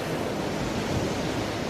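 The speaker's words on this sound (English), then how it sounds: "there was sand and the ocean" Ocean surf rolls onto a sandy beach in Peru during the off-season winter, a steady, dense roar of waves with no breaks or voices.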